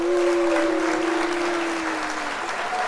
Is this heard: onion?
no